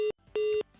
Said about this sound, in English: your phone went off right on time